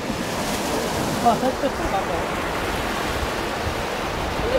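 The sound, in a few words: ocean waves breaking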